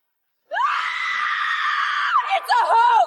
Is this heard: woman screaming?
yes